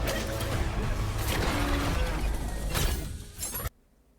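Explosion in the Horizon Steel Frontiers trailer: a loud, dense crashing blast with shattering debris that surges and rumbles for several seconds, then cuts off abruptly into near silence.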